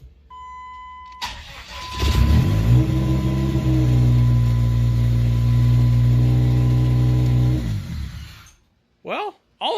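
A 1999 Dodge Neon recovering from a bad hydro lock cranks and starts, then runs loud and close at a rough, uneven idle before shutting off; a chime sounds before the start and voices come in at the end.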